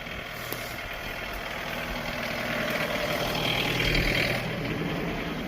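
A small gasoline engine on a wood splitter runs at a steady idle, a continuous mid-pitched drone with a faint rise in loudness partway through, close by with no voices.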